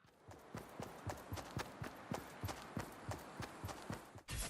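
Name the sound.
friendly footsteps in the video game Fortnite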